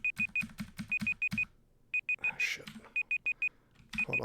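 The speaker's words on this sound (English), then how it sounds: "that's my alarm" A streamer's alarm beeps in rapid clusters of short, bright electronic tones, repeating in regular groups with brief gaps and a burst of noise midway.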